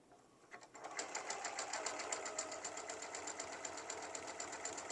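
Sewing machine stitching quilt fabric at slow speed, a steady even rhythm of needle clicks running for several seconds after a brief start, close and alone.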